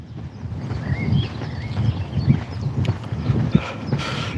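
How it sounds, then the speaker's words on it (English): Cows walking through on a road in the morning, their hooves clopping in an irregular, overlapping rhythm close by, with faint birdsong and light wind outdoors and no talking. "Going to be cow central walking through here."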